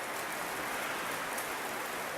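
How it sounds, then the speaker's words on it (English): Hard, steady rain pours down continuously, a dense broadband wash with no pauses, loud and close, with no voices over it. "It's raining really hard."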